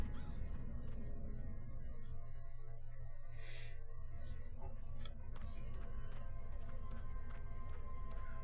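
A crow caws a few times in the video game Dreamfall: The Longest Journey, high and fairly clear over a steady bed of game ambience and low background hum.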